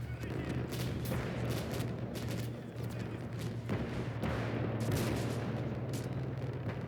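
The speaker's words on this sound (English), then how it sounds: "They're firing blind, so be careful." Blind gunfire and artillery from Romanian positions under attack in Call to Arms: Gates of Hell, a dense continuous barrage of shots and booms with a steady low hum beneath, loud throughout with no pauses.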